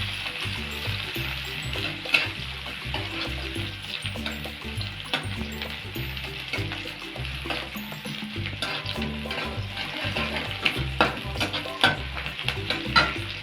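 Chopped onions sizzle and spit steadily in hot white oil, with the dull scrape of a spoon stirring them through the pan at close range, running without pause and with no voices.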